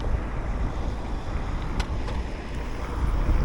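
An E-twow GT SE electric scooter rides through a city on the way to work, heard mostly as steady rushing wind and road noise close to the microphone, with a few faint ticks.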